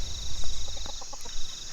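A chicken in a video game gives a quick series of short clucks over a steady high-pitched background tone, close and moderately loud.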